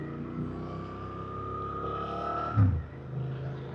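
A Suzuki GSX-8R motorcycle runs underway with a steady engine drone whose pitch holds then drops as the rider shifts, followed by a brief low thump and a settled lower tone; no talking.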